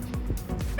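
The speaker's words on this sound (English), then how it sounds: "Mad tiny pup." A tiny puppy gives a few quick soft yips and barks, close and fairly loud, without talk.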